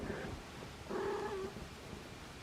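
A pet cat named Sammy gives a short, soft meow over low purring, quiet and close in a calm indoor room.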